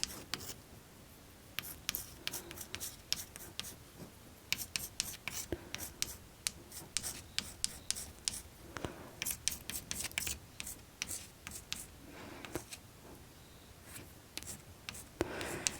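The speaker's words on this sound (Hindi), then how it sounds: "ऑप्शन भी हम लिख देते हैं" Pen scratching out answer options on paper or a board during a NEET organic chemistry lesson, with steady bursts of close scribbling strokes and pauses, no talking.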